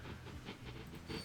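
Locomotive in the Transport Fever 2 game chugs along with a steady rail rumble and soft periodic steam-like hiss bursts, fairly quiet and continuous with no talking.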